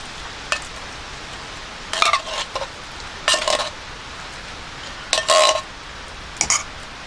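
A metal utensil scrapes and clinks against a pot of food cooking on a camp stove at a campsite in Baxter State Park, Maine, in a few short bursts separated by quiet gaps.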